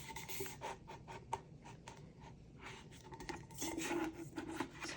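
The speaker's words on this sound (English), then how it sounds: "So I'm going to start by trimming off some excess that we are not going to need." Excess vinyl being trimmed from a tumbler makes close, scratchy cutting and rubbing sounds in short strokes, faint and dry, with no talking.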